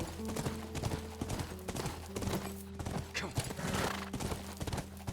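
Horse hooves clip-clopping at a steady trot in The Last of Us video game, close and continuous, with occasional neighs and whinnies over a layer of game music and ambience.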